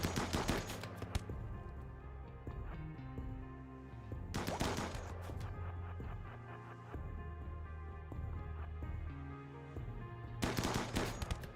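Video game gunfire during a colony raid, heard as three bursts of rapid automatic shots spread across the stretch, with quieter machine clatter and faint tones between them.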